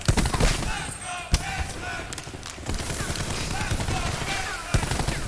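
Rapid gunfire from a Call of Duty esports match, bursts of automatic weapons crackling over a dense game mix, with sharp louder shots standing out and faint commentary voices underneath.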